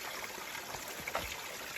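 Spring water trickling and flowing along the Appalachian Trail, a steady soft babble with a few brighter splashes, faint and continuous with no talk.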